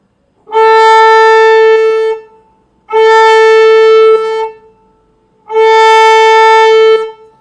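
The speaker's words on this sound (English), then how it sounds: "the A string sounds like this." A violin's open A string is bowed in three long, steady, sustained notes, each lasting about a second and a half and separated by short silences, loud and close.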